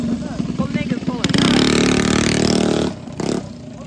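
A mini bike engine revving on the road during a ride-out, a rising, sputtering rev that swells to a loud sustained buzz and then cuts back to idle, close by, with voices nearby.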